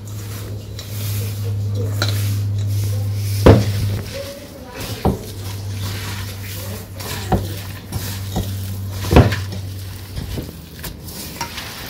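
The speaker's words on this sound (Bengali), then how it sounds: "তো মশলার সাথে তো সবজিগুলো ভালো করে মিশিয়ে নিলাম, মাখিয়ে নিলাম।" Vegetables being mixed with spices by hand in a pot during village-style cooking, a steady wet rustling and squelching with several sharp clanks against the pot, close up and with no talking.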